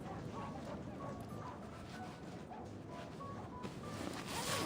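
A video-game dog barks in small yips and whimpers, faint and soft against low background noise, with a few short high calls spread across several seconds.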